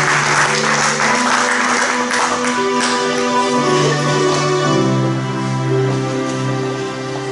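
A church congregation applauds and cheers in praise, a dense sustained clapping over a musical drone that fades slightly toward the end.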